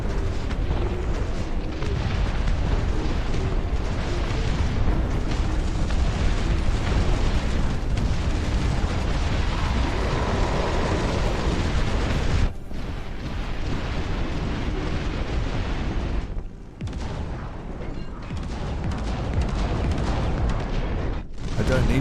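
Enemy units firing and explosions rumbling in the RTS game Dust Front, a continuous heavy barrage of booms and bursts with deep low-end weight, loud and dense, easing briefly in a few short gaps toward the end.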